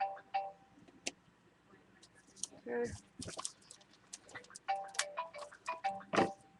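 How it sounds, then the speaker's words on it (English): A mobile phone rings indoors with short repeating tonal bursts, heard intermittently under a woman's speech and some clicking. "There goes my phone and I'm not answering it."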